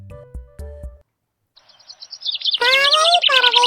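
Lovebirds chirp in quick, bright bursts, a thin run of high rapid notes building into loud, close trills, after a few short low knocks.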